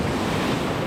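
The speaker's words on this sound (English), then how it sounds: "Waves are starting to come crashing down a little bit harder" Ocean surf crashing on the sand at Newport Beach, a steady broadband roar close by with wind buffeting the microphone and no voices.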